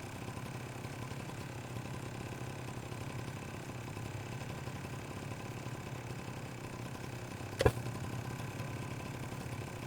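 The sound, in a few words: generator running in the video game Rust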